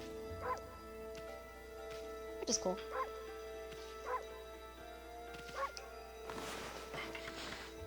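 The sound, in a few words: wolf barking like a Pomeranian in video game Okami HD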